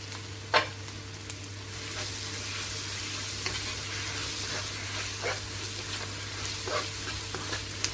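Ginger garlic paste sizzling in hot oil with bay leaves and cinnamon for a chicken korma, a steady soft frying hiss with a few sharp stirring clinks, close and alone with no talk.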